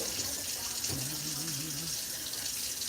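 A kitchen tap running steadily into a sink during dishwashing, a constant hiss of water with a voice briefly murmuring over it.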